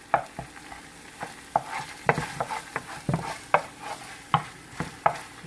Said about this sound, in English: So you're just gonna let this fry like for a minute or two